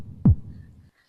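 A single deep, booming heartbeat thump sounds as a horror sound effect, loud and close, decaying into a low fading hum before silence.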